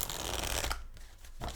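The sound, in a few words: tarot cards being shuffled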